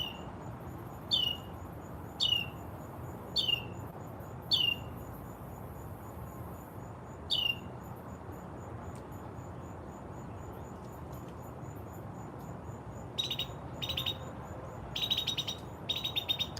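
A mockingbird calling in a garden: short, clear chirps repeat every second or so, pause, then return as quicker clustered notes, moderately distant over a soft, steady outdoor hum.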